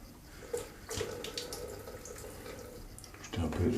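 Tap water running onto a shaving brush in a bathroom sink, a close splashing trickle with a few louder gushes and a rougher burst near the end.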